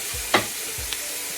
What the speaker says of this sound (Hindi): इसको सिर्फ 1 मिनट के लिए मैं भून लेती हूँ तेल में